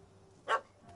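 A puppy in The Witcher game lets out a single short, faint bark at a cat, one quick yap against a quiet background.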